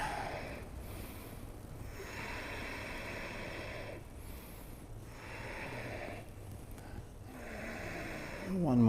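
Slow deep breaths drawn in and let out during a strong yoga flow pose, several long airy inhales and exhales in an even rhythm, close and moderately loud.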